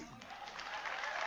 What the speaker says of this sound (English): And a big hand clap goes there.